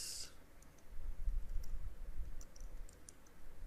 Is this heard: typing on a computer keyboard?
yes